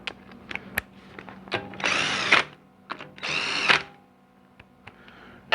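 A power tool drives bolts into a GM 700R4 transmission, two sustained whirring bursts of about half a second each amid scattered metallic clicks and taps, close and fairly quiet with no talk.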